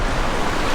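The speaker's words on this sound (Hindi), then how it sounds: "मैं इस समय धार के बिल्कुल बीचों बीच खड़ा हूँ और ये है नदी" Rushing river water at the meeting point of two rivers by a mountain temple, heard as a loud, steady, broadband roar throughout, close and with no voices.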